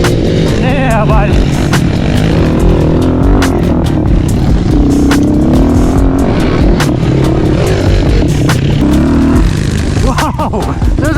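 Two gas-powered dirt bikes revving hard nearby, engine pitch rising and falling continuously while voices shout over the loud, steady roar.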